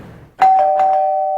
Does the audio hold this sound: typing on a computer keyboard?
no